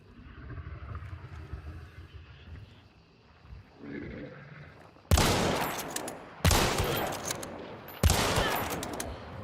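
Three loud, sharp bursts of video-game gunfire ring out after a quieter stretch of low ambient rumble and movement, each burst a sudden crack that trails off over about a second.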